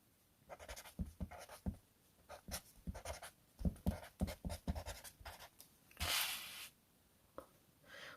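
A pen or marker scratching out maths working on a board or page, busy strokes with irregular rhythm and a longer rough scrape near the end, close-up and fairly quiet.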